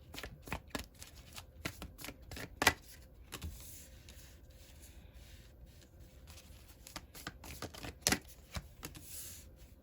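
A deck of tarot cards is shuffled up close in quick bursts of riffling and soft slaps, pausing between rounds in an otherwise quiet room.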